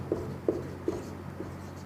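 Hand-writing a number on a classroom board, heard as four soft, separate strokes spaced about every 0.4 seconds, faint and close against a low steady hum, with no talking.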